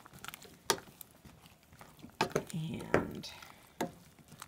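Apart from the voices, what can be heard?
stirring mushrooms, tomatoes and spinach in savory oats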